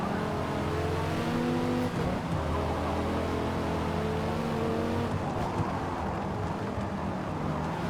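A Dodge Viper race car engine in Forza Motorsport drones loud and steady, with a sustained engine tone shifting in pitch as it works through gears and corners under constant racing noise.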